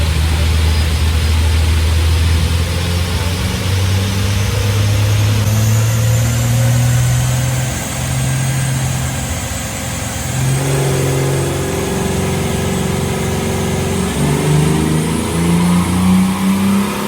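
A carburetted car engine climbs steadily through a power run, rising in pitch, easing briefly partway through, then building again, loud and close and heard alone.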